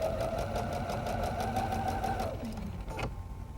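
Sewing machine stitching quilt fabric for an Irish Chain quilt, a steady fast mechanical whir running for a couple of seconds before winding down and stopping, close and alone.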